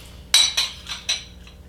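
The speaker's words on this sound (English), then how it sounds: "So, I'm going to spoon some of this out." Four quick metallic clinks and scrapes of a spoon against a pot while lentil tomato soup is served out, evenly spaced over about a second and close by, with no talking.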